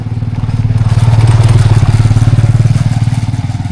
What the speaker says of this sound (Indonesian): ada motor Bu ke samping